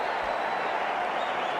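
A cricket crowd reacts after a batsman is out hit wicket, with a broad, steady wash of crowd noise and scattered applause, continuous and dense for the whole moment.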